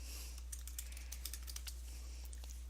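Quiet, steady clatter of computer keyboard keys as a file name is typed, soft irregular taps over a low constant hum.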